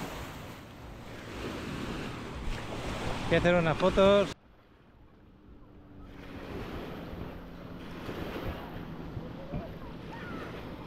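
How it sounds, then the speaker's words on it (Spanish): Sea waves rolling and breaking on a beach in Cancún, a steady broad wash of surf with wind noise on the microphone, briefly cut off midway, while a person speaks over the first part. "Os quería enseñar cómo está el mar en este momento."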